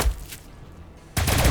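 Gunfire in the Warhammer 40,000: Battlesector strategy game: a short burst of shots rings out, a brief lull follows, then a louder volley of rapid fire closes the moment.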